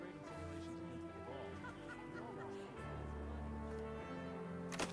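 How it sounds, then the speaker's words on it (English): A bird in the video game Destiny 2 squawks and clucks in a rapid, chicken-like series, close and moderately loud over in-game music and ambience. "Did the bird distract you?"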